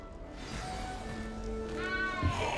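A cat in the Hogwarts Legacy video game gives a few soft, rising meows that stand alone over a faint background.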